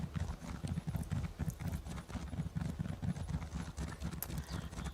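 Hooves drum in a fast, rolling gallop as a horse runs across the Cyrodiil region in Elder Scrolls Online, a continuous rhythmic thudding that stays loud and steady throughout.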